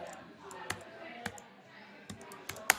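Computer keyboard typing into a notes window, a handful of quiet, irregular key taps and clicks spaced over a few seconds, close and soft against a faint room background.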